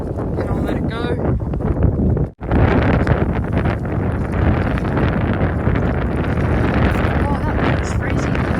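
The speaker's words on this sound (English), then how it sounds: "Oh, that wind is freezing." Strong, cold wind gusting across the microphone while fishing in rain, a loud continuous roar and rumble that drops out briefly before buffeting on, with someone speaking over it.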